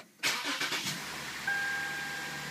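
Lexus IS250 with a 4GR-FSE engine cranking briefly with a rapid chugging starter rhythm, catching and settling into a steady, close idle hum with a faint whine.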